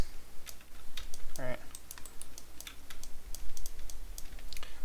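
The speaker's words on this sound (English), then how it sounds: "I can click on these controls, and I can press S to key them" Keyboard key presses click sharply and sparsely through a character rig animation session, a few quick taps scattered across the stretch, with a voice speaking briefly over them.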